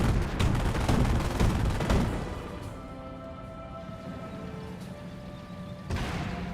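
Flame engineers fire in Company of Heroes amid a loud wartime fray of rapid gunfire and blasts. The noise is dense for the first two seconds, drops to a quieter rumble, then flares again near the end.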